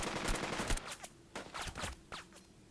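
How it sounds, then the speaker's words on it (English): Gunfire in Burden of Command, a WWII tactical game: several bursts and single shots crackle unevenly, moderately loud, with brief gaps between volleys. "Both of you now open fire on these guys"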